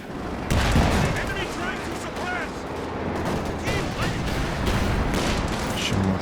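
Gunfire and Raketenwerfer anti-tank rocket hits in a Company of Heroes 2 match, with dense bursts of shots and a couple of heavy impacts layered over a steady battle din, under a commentator's voice.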